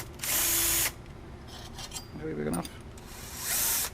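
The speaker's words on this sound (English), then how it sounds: "We're going to drill this and screw it in there." A power drill bores into a metal bracket for a homemade sous vide water oven build, with two short loud bursts at the start and end and quiet talking between them.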